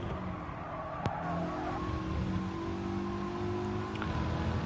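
A Mitsubishi Evo Gr4 race car in GT Sport drones steadily at high revs on a circuit, with a sustained engine whine and faint tonal shifts, heard alone without talk.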